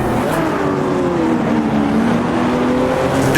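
Race car engine in Automobilista 2, holding a steady loud drone as revs sweep down after a downshift into second gear, set among a crowded field of Corvettes and Porsches in a 60-car AI race.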